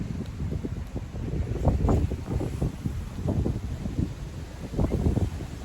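Wind gusts buffet the microphone outdoors, a low rumbling roar that surges and fades in uneven bursts throughout.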